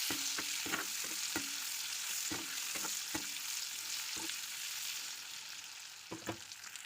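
Eggs fry in a hot pan with a steady, broadband sizzle, cut by repeated sharp clinks and scrapes of a spatula or spoon against the pan. The sounds are close and come with no talking.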